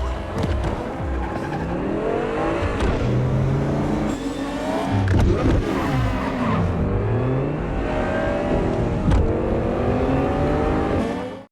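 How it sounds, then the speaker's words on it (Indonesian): A getaway car accelerates hard and speeds off in a crime film, its engine revving loudly with tires squealing and shifting pitch, surrounded by a busy, continuous swirl of traffic and film score. "dengan cepat Frank pun langsung tancap gas dan kabur meninggalkan mereka"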